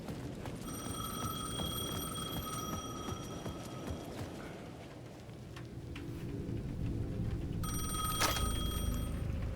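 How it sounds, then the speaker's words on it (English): A payphone at the edge of a plaza rings in the video game Alan Wake II, an electronic bell tone sounding in a long burst, pausing, then starting again over a low, rumbling ambient bed. "The payphone at the edge of the plaza was ringing again."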